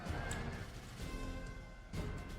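Cavalry horses neigh and whinny amid battle noise in Total War: Attila, a shrill whinny rising over a dense rumble of hooves and clashing, loud and busy.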